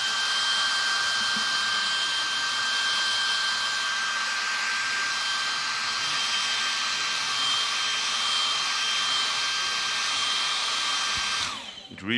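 A hair dryer blowing on plaster in a workshop gives a steady, loud whine that holds for about eleven seconds before cutting off abruptly.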